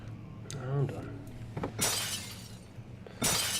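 An object smashes in the horror video game Amnesia, two bright crashing bursts of shattering, the first followed by a scatter of debris, with voices talking around them.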